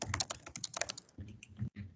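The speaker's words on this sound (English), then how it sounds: "He's typing" Someone types on a computer keyboard during a tabletop game session, quick close clicks in uneven bursts with a short gap near the end, no voices over them.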